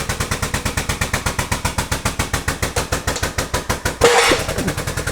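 A hydraulic press crushes a camera: a rapid, steady mechanical pulsing runs throughout, then a sudden loud crunching burst lands near the end as the body gives way. No one speaks.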